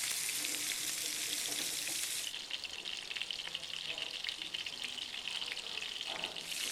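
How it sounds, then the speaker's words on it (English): Two fish fillets shallow fry in a pan, giving a continuous, even sizzle with soft bubbling and occasional stirring noises, fairly quiet and without speech. "And these will be shallow fried."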